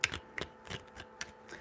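Tarot cards are shuffled in quick, close, crisp riffling and tapping bursts, a few irregular flicks of card stock heard alone without talking.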